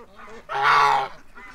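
A white Peking duck gives one loud, nasal, honking quack close by, with quieter bird calls around it.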